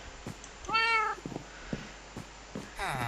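Cats meowing in Minecraft, with a couple of distinct meows a few seconds apart among soft clicks and thumps, close and clear over quiet background with no talking.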